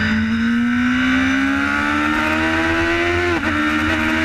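A racing motorcycle on the Isle of Man TT course accelerates hard, its loud, close engine note rising steadily in pitch before a brief dip near the end.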